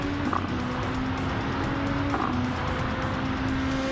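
A car engine drones in Gran Turismo 7 with a steady whine that shifts pitch at gear changes, moderately loud and alone.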